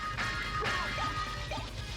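Wing smash attack in the video game Castlevania: Symphony of the Night, a busy burst of crashing, whooshing impacts layered over steady game audio, loud and continuous for about two seconds.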